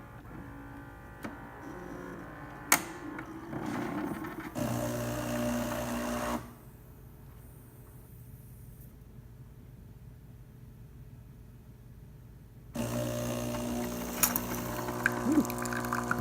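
A Gaggia espresso machine pulls a test shot after a full tune-up: a steady mechanical pump drone and hum that cuts out into near silence for several seconds before the motorized buzz returns, close up and loud with no voices.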